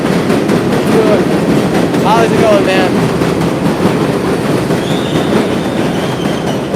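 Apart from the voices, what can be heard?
loud passing train in the Bronx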